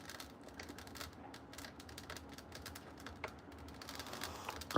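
A newly lit fire crackles faintly and close by, with irregular small snaps and pops scattered throughout and a sharper burst right at the end.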